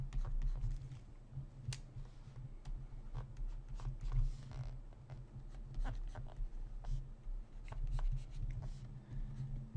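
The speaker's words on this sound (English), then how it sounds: "I'm just gonna draw in a stick figure arm." A pencil sketches a stick figure arm on paper, giving soft scratchy strokes in short irregular bursts, close and fairly quiet, with faint low hum underneath.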